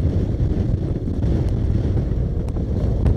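Strong wind roars steadily across the microphone while riding a motorcycle on a long-distance road trip, a dense, constant buffeting rush with no voices.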